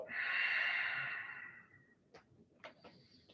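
A long, deep breath breathed out in a breathy rush during a power vinyasa yoga session fades over about two seconds, followed by faint rustles and soft clicks nearby.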